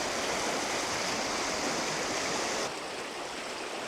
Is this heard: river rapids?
yes